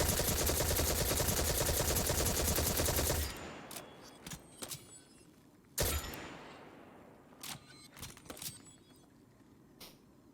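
Monte Carlo exotic weapon in Destiny 2 firing a dense automatic burst for about three seconds, then a sharp single blast among a sequence of mechanical reload clicks, clacks and metallic slides, loud and close.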